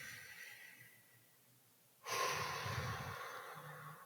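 A person breathes heavily and audibly, a soft exhale fading out, then after a pause a sudden loud, forceful inhale-exhale that stays rough and breathy for about two seconds.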